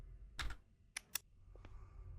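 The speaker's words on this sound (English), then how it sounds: "I'm clicking on it. I'm pressing." Several sharp computer mouse clicks during play of the horror game Welcome to the Game III, spaced irregularly and alone over a quiet background.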